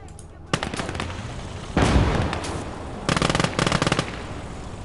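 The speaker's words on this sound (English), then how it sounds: "that sounds like the infantry gun made a strike there" Heavy gunfire in the WWII game Call to Arms: Gates of Hell, an infantry gun strike landing as a loud blast amid sharp rapid bursts of machine-gun fire, close and dense across the whole stretch.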